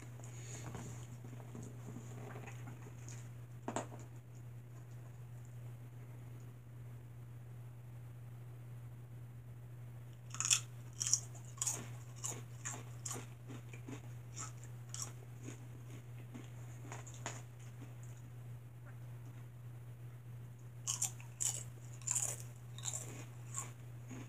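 Crunchy chips being bitten and chewed close up, with irregular bursts of crisp crunching in clusters over a steady low electrical hum, no talking.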